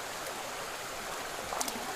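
A clear river stream runs in a steady broadband rush of flowing water, with small splashes near the end and no voices.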